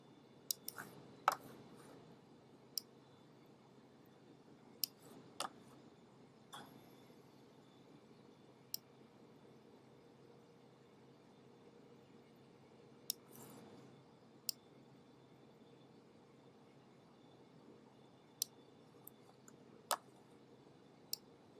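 Sparse, sharp computer mouse clicks, a dozen or so at irregular intervals, sit close and quiet over a faint steady room hum while a photograph is cropped.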